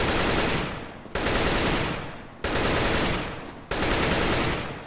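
Automatic rifle spray fire in CS:GO, four sustained bursts of rapid shots, each cut off sharply and followed at once by the next, loud and close with no talking.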